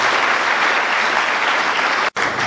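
Dense, sustained audience applause at a public conference for Michel Camdessus, loud and even throughout, with a brief break in the sound near the end.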